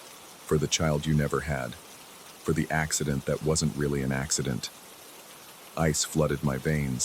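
Steady rain falling as a soft, even hiss in the background, continuing under a voice telling a story and filling the short pauses between phrases.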